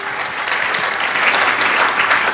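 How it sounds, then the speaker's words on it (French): A church congregation applauds during a Sunday worship service, a dense, loud and sustained wash of clapping from many hands that keeps a steady level throughout with no break. "Est-ce qu'on peut acclamer le Seigneur?"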